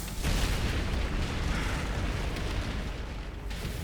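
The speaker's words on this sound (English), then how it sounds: "Yeah, shoot the missile." A missile explosion in the video game Resident Evil Requiem, a loud sustained rumbling blast with a dense roar that holds steady for several seconds without a break.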